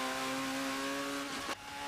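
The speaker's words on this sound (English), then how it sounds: "There's a lot of turbo noise going on with this car." Turbocharged race car engine in Forza Motorsport 7 holding a steady, close drone with a whining overtone, then cutting off sharply near the end as the pitch drops away.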